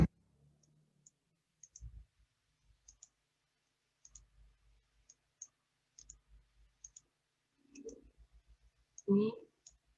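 Sharp computer mouse clicks scattered across a quiet stretch, a few close together, as a shadow colour is picked in software, with brief murmurs of speech near the end.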